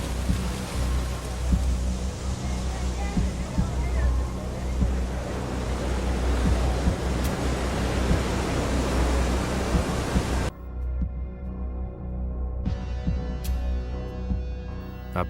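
Open ocean waves wash and surge in a loud, steady broadband rush with wind noise, continuing alone before dropping to a quieter, thinner swell partway through.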